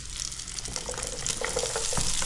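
Tomatoes sauté in a hot frying pan with a continuous crackling sizzle and scraping stir noises that grow slightly louder, with no talking.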